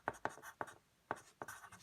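Pen strokes on paper drawing a ledger line and a note on a music staff: a few short, crisp scratches in an uneven rhythm, close and fairly quiet, with no talking.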